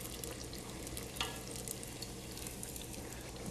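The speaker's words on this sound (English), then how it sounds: "Fried dough. You hear that bubbling? It's bubbling goodness." Dough deep-frying in hot oil gives a steady close sizzle with dense bubbling crackle, one brief louder pop midway and no talking.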